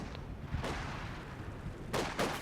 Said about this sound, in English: you can see British artillery from the base is that's a little extreme range